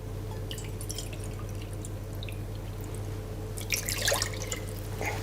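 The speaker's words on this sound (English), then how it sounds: "Now we are going to add 2 cups of water. Just tap water is fine." Tap water is poured into a saucepan holding a marinade mixture, a soft splash and trickle building near the end over a steady low hum and scattered drips.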